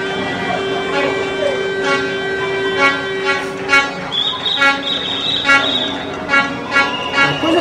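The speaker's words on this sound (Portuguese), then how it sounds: "Panelaço, buzinaço de novo nos grandes centros do país" Car horns honk repeatedly in a street protest in a large city, short toots overlapping in a loud, continuous din with a sustained tonal blare underneath.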